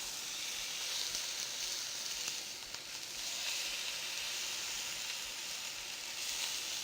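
Steaks searing in a hot pan just after being turned, giving a dense, even hiss of sizzling fat that holds steady at moderate volume with a slight dip midway, no voices.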